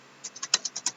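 Quick, even keystrokes patter on a computer keyboard, about eight light taps in a steady run, close and clear with no talking.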